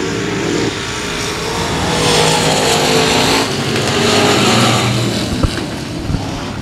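Race cars at Cotton Bowl Speedway accelerating on a green-flag restart: a loud, dense roar of several engines revving and swelling together, sustained close by with rising and falling intensity.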